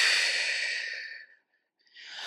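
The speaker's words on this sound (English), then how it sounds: "take a big deep breath" A deep, breathy inhale and exhale, close and clear, rises to full strength, fades into a brief pause, then resumes as another breath begins.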